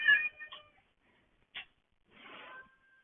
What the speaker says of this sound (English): I have a crabby cat to deal with